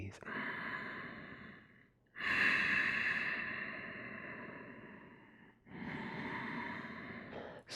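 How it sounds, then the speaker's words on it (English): Slow, steady breaths drawn in and let out through the nose during a calm seated yoga session, three long, soft airy cycles with short pauses between them, close and fairly loud. "calming, relaxing breaths in through your nose, out through your nose"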